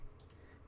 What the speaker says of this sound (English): I'm right clicking on this.